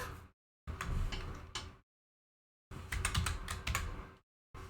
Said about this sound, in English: I just need to type in backstory